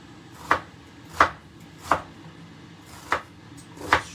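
A knife chopping an onion into little pieces on a board while preparing cod and chips: five crisp, evenly spaced chops, close and distinct, with quiet pauses between them.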